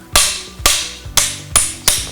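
A hammer strikes a spring ring removal jig on a Makita power tool, five sharp metallic taps spaced about half a second apart, loud and close with brief ringing decay.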